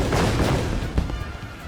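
Booming explosions from the video game Final Fantasy XIV at a Moonfire Faire event, a dense, loud rumbling barrage of blasts with a sharp hit near the middle, continuous throughout.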